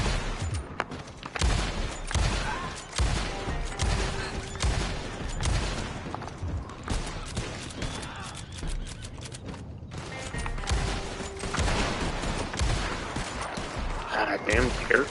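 Gunfire in Red Dead Online, with repeated sharp shots and bursts cracking irregularly across the whole stretch amid a busy battle, near and loud, with a voice talking over parts of it.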